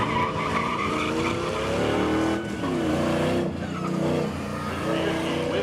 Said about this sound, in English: Thunderbird almost spinning out on the backstretch, and he is done.